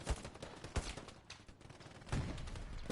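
Rapid bursts of gunfire and cannon fire from a tank video game match, loud and dense with repeated sharp shots rolling over one another.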